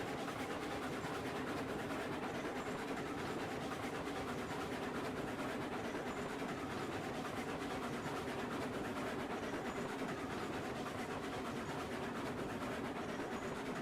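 Locomotive in Railroads Online hauling a heavy train of freight cars loaded with iron, a steady low rumble and rolling rail noise that holds evenly throughout.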